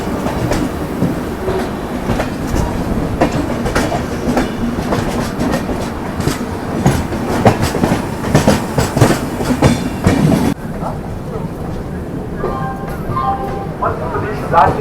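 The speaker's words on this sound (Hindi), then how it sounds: "भोपाल जंक्शन से अभी डिपार्चर ले रही है भोपाल शताब्दी एक्सप्रेस" A Bhopal Shatabdi Express pulls out of Bhopal Junction with loud, close rolling rumble and rhythmic clickety-clack of wheels over rail joints, with a voice speaking over it; the noise drops sharply near the end.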